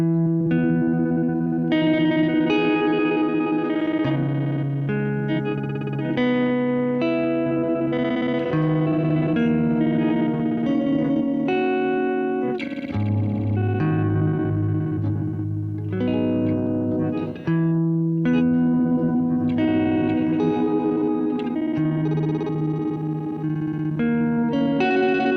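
A Chase Bliss Habit echo collector pedal layers repeating echoes of sustained guitar notes into a shimmering, chorused and slightly distorted wash, pitches shifting and stacking over twenty-five seconds, loud and continuous with no voice.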